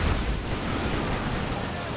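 Plasma grenades go off in a Dawn of War 2 battle, a dense, continuous rumble of blasts that fills the whole stretch with no distinct pauses, with faint voice commentary woven in.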